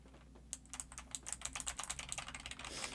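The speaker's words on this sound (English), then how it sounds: "I don't even know where I'm typing right now." Fast, light clicking on a computer keyboard while typing in a terminal on macOS, a dense run of close, crisp keystrokes with no speech.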